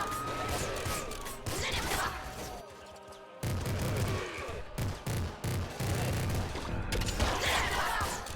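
Splinter Pistol from Nuclear Throne firing in rapid, dense volleys, loud crackling bursts with impacts and explosions, broken by a brief near-silent gap before the barrage resumes.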